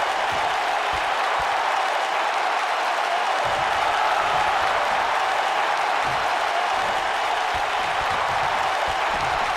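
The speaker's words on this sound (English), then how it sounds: "It certainly sounds like this Phoenix crowd is pumped up to be a part of this card here tonight." A large arena crowd in the WWE 2K19 wrestling video game keeps up a steady, loud roar of cheering and applause, with a commentator's voice faintly under the din.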